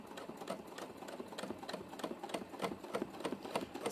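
A sewing machine stitches fast during free-motion quilting while the fabric is moved backwards, giving a steady rapid mechanical chatter with sharper clicking accents repeating throughout, close and fairly quiet.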